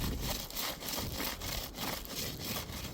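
Steady rhythmic hand sawing and scraping beneath railroad ties during manual undercutting to fix a frost heave, with repeated back-and-forth strokes, close and gritty, and no voices.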